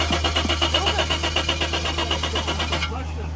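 The six-cylinder engine of an automatic Jaguar XJ6 cranks with a rapid, even starter rhythm under a steady low hum, then cuts out abruptly near the end, leaving only faint background hiss.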